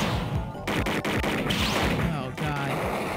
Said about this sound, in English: Shoot, aim for the head.